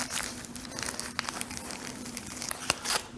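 A plastic onigiri wrapper crinkles and rustles as its tab is pulled, a continuous close crackling with a few sharper snaps.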